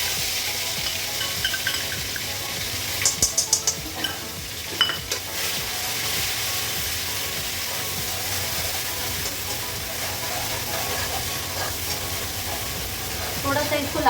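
A cumin, cardamom and green chilli paste fries in hot mustard oil, giving a loud, steady sizzle and hiss with a few brief scraping stir clatters near the start.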